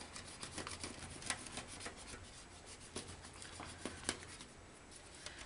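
A paper stump rubbing a design into metal foil on a travel mug, heard as soft, continuous close-up scratchy rasping with faint irregular ticks, no voices.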